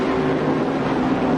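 A 750-horsepower Porsche race car engine roars steadily as it pulls ahead during a 1985 IMSA GTP race at Riverside, a loud continuous drone mixed with wind and crowd-free trackside noise.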